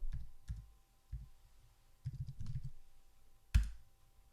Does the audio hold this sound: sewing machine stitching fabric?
no